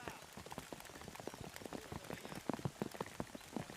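Rain falling steadily on the ground during a T10 cricket match at the European Cricket Series in Portugal, a dense patter of drops with scattered louder splashes that grow heavier toward the end, with faint voices in the background.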